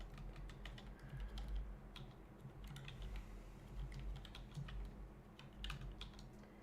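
Rapid, irregular clicks of fingers on a computer keyboard, quiet and close, over a steady low hum, with no one speaking throughout.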